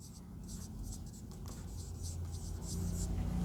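Chalk or a pen scratches across a board in short repeated strokes, quiet and close, with a teacher talking at the same time.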